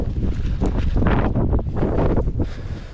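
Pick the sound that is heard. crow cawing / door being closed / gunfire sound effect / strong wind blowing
strong wind blowing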